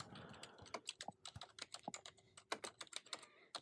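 Rapid keyboard typing on a computer, a steady run of close, crisp key clicks with brief pauses, with no talking.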